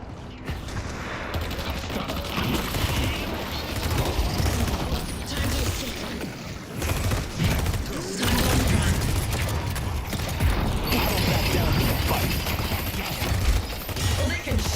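Video game gunfire rattles in dense, continuous volleys amid mechanical clatter and crashes, a busy and loud battle mix that carries on throughout.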